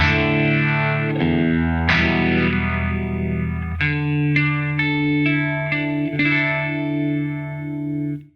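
Electric guitar through an Eventide Riptide effects pedal on its vibe preset, sustained chords and single notes with a warbling, pulsing modulation, loud and close with no talking.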